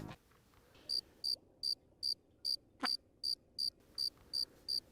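A cricket in the video game Zapper: One Wicked Cricket chirps in short, evenly spaced bursts, about a dozen in a steady rhythm, clear and close over a quiet background with a brief click partway through.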